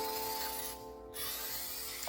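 A spray can sprays a coating onto wooden flooring for floor repair, giving a steady close hiss that briefly pauses and then resumes.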